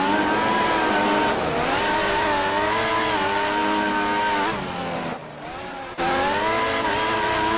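A race car engine in a Singapore GP3 racing video game drones loudly with shifting pitch as the car loses traction, briefly dipping before roaring back.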